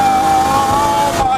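A turbocharged car pulls hard on full boost with a loud, sustained engine drone and a high whistling whine, then the tone drops briefly near the end.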